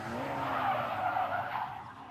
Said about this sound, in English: he hit the gas pedal instead of the brake, causing an almost complete 360